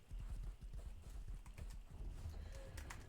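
Horse hooves clip-clop at a steady trotting rhythm in a video game, low thuds repeating quickly under faint background game sounds and occasional clicks.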